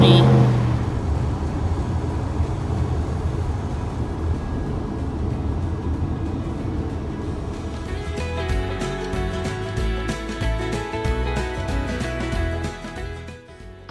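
A Mercedes Sprinter van cruises along a highway across Canada, its steady road and engine rumble heard from inside, then broken into sharp rhythmic rattles and clicks near the end.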